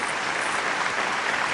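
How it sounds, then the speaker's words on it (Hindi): An audience at a Hindi humorous poetry recital claps loudly and steadily, a dense wash of applause with no speech over it. "और किया तो जरा जोरदार ताली"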